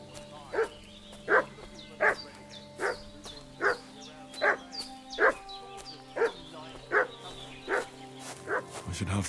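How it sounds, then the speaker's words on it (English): In Kingdom Come Deliverance II, a village dog barks repeatedly at a steady pace of roughly one bark per second, at moderate distance, with background game ambience and some talk. "What's that dog making such a fuss about?"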